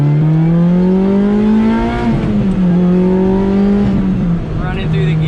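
Lotus Exige engine revving through gears with an upgraded short shifter, loud and close: rising pitch, a sharp drop at each upshift around two and four seconds, then climbing again.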